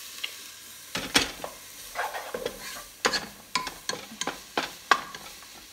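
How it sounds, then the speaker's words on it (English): Garlic and onions fry in a pan with a soft steady sizzle, broken by repeated sharp scrapes and clinks of a utensil stirring against the pan, close by. "Now I'm just gonna get the garlic and onions brown up a little bit before I add the meat"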